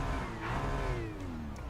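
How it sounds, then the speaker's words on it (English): Ferrari 296 DTM race car driving the Nordschleife in RaceRoom, its engine loud and close with a falling rev sweep and a faint turbo whistle over the roar, no talking. "The turbo is whispering."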